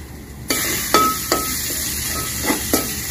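Yam and tomato pieces with tamarind hit a hot pan and start sizzling. The steady hiss is punctuated by several sharp metallic clinks and scrapes of a utensil against the pan.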